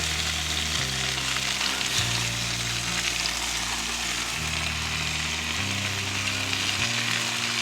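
Smoked bacon and butcher's sausages sizzling in a pan at an outdoor camp kitchen, a steady close hiss and crackle running unbroken, with a low engine-like hum shifting in pitch underneath.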